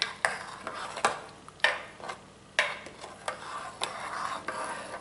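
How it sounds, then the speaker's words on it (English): Ketchup steak sauce stirred in a pot, repeated scraping strokes of a spoon against the pot at an uneven rhythm over a faint background hiss, close and with no talking. "going to just give this a good stir, everything"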